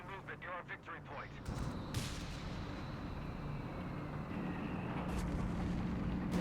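Whiz bang rocket artillery in the video game Company of Heroes 3, a rapid burst of launches followed by a sustained rumbling barrage of explosions, with commentators talking over it.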